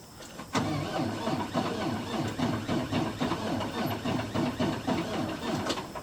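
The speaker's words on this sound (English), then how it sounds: "Let's go jump the haul truck off." A haul truck's diesel engine turns over and catches while being jump-started from an excavator on a pond construction site, then runs with a steady loud rhythmic chugging and rattle, close by, with a brief sharp clank near the start and end.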